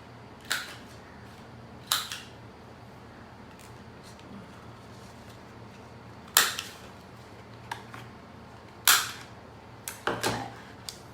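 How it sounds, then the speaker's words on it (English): A corner chomper punching rounded corners on small album pages, giving sharp, faint clicks spaced irregularly a few seconds apart over a quiet room. "I will just do the corner chomper."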